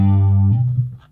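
Squier Classic Vibe 60s Jazz Bass ringing a single high G note through an exciter effect with the treble rolled off, a loud sustained tone that fades and wobbles as it decays.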